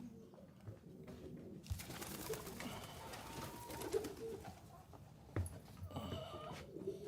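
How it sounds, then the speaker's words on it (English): Pigeons gather in a very large aviary built for long flights, their soft cooing and murmuring continuous and fairly distant, with a few sharper knocks and rustles and no clear speech. "They can actually, kind of take really good long flights out here in this very big pigeon aviary."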